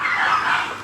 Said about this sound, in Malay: Sorry, anjing di sini.